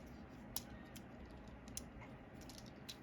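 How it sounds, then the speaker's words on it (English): Small plastic clicks and snaps come from the wheels of a Newage Ultra Magnus transforming figure being folded in, a few faint sharp ticks spaced apart over a quiet background. "Fold in the wheels"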